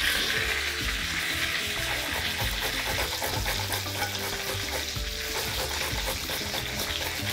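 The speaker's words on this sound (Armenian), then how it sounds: "Ես կողմից էլ կարմրացնենք։" Food frying and browning in a pan, a dense continuous sizzle close by with occasional stirring scrapes, under faint background music.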